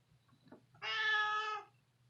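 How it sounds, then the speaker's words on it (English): Panda, an old alley cat living in a studio, gives a single clear, drawn-out meow up close in an otherwise quiet room. "This is Panda the Studio Cat"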